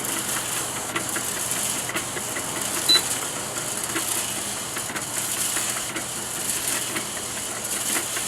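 A planetary bean bouncer coffee roaster running through a dark roast, giving a steady mechanical hum with faint irregular clicks and ticks from the tumbling beans, with no voices.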